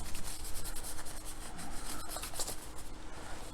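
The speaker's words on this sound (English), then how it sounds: "I typically put another fresh dry tissue on top and sort of scrape the rest" A dry tissue scrapes isopropyl alcohol residue off an electronics circuit board in close, soft rubbing strokes that rasp unevenly with a few small clicks, quiet and with no talk.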